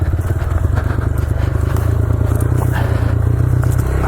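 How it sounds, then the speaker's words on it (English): A Honda CRF125F mini dirt bike runs close by on single track in Cambridge, Idaho, its small engine buzzing loudly and steadily while scraping and clattering against a tree branch. "I'm basically running into a tree on this bike."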